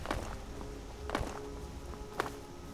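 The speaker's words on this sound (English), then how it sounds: "Is that the sound of my footsteps?" Player character's footsteps in the video game Skyrim, a few soft, spaced thuds at close range over a steady low ambient bed, with no talking.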